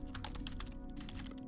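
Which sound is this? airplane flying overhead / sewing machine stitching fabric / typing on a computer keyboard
typing on a computer keyboard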